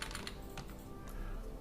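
Keys tapped on a computer keyboard to enter the ipconfig command, a quick run of quiet clicks, close and clear over a faint steady background.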